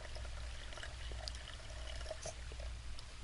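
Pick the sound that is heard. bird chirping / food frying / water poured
water poured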